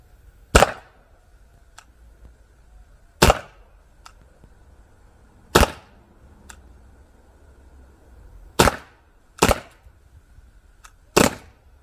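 Sharp, isolated pops from an airsoft Glock 17 Gen5 pistol, six main shots fired at irregular intervals of a second or more, with faint clicks between them in a quiet space.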